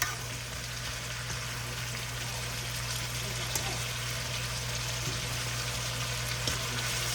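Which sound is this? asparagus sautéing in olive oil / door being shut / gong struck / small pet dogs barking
asparagus sautéing in olive oil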